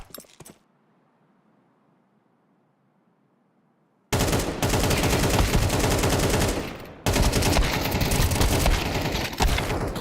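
AK-47 fire in Counter-Strike, a near silent pause broken by loud, dense bursts of rapid automatic shots that stop briefly and resume, close and harsh.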